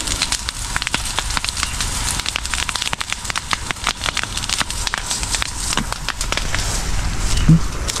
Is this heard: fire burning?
yes